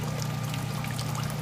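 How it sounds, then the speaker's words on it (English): Clean water pouring in a steady, close trickle into a container for the final boil-out that clears wax from a dental denture flask, alone with no voices. "now I'm taking clean water and doing the final boil out"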